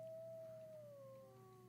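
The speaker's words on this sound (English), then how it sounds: "Still got those shitty dog noises" A dog howls in a first-person shooter video game, a single faint, drawn-out wavering tone that slowly falls in pitch over a low background hum, with no talk.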